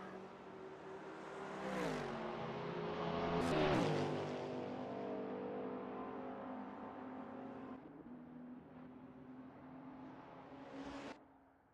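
A Ferrari GT race car in a simulated 24 Hours of Daytona endurance race, its engine droning steadily at high revs with shifts and rising pitch sweeps, loud and close, alone without talk.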